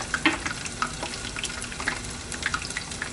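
Crab rangoons deep fry in hot oil with a steady, close crackling sizzle, dotted with small pops and brief stirring clinks, and no one speaks.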